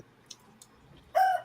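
A rooster crow sound effect bursts in loud and close near the end, a single short cock-a-doodle-doo after faint ticks and near silence.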